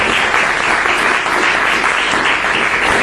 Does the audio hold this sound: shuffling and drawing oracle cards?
no